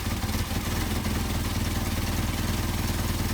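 Mercedes 190SL engine idling steadily on freshly adjusted Solex 44PHH carburetors, a continuous low, even rumble at close range with no other sounds.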